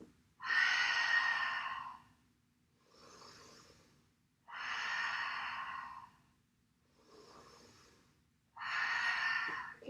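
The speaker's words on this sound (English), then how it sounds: "3 belly breaths." Three slow, deep yoga belly breaths, each long airy exhale alternating with a quieter inhale in a steady rhythm, close and otherwise quiet.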